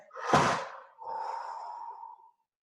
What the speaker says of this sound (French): expirez, bouche ouverte